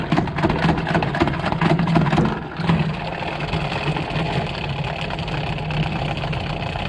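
A spinner whirs up to speed with a dense, steady mechanical hum that stays loud and continuous throughout.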